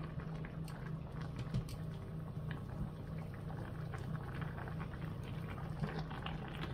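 Carrots cooking in a pan, giving a steady, quiet sizzle and bubbling hiss with faint ticks throughout and no voices.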